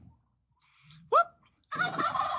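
Turkeys gobble nearby, one short rattling gobble standing out loud, then a longer, denser gobbling burst as a second bird joins in.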